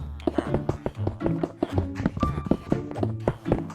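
Glass blocks are set between glowstones in Minecraft, a quick string of sharp tapping clicks and thuds heard under a person talking.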